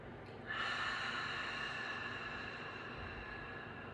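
During a yoga session, one long forceful breath is let out with an open 'ha' sound, a near breathy rush starting sharply and fading slowly over a few seconds.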